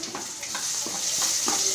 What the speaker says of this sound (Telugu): ఆనియన్, ఆవాలు, జీలకర్ర, పల్లీలు, పచ్చిశనగపప్పు అండి, కరివేపాకు, పచ్చిమిర్చి అన్నీ ఆయిల్లో ఫ్రై చేస్తున్నాను